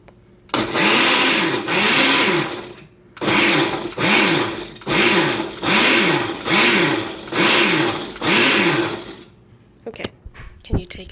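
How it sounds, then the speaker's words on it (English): A kitchen blender whirs through spicy salsa in a series of loud, steady pulses, each running about a second before a brief stop, then falls silent with a few light clicks at the end. "once I'm done blending it, I'll show you what it looks like"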